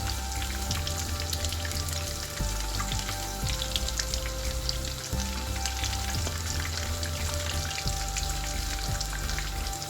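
Food sizzling in a hot pan during home cooking, a loud continuous crackle close by with occasional clinks and stirring noises.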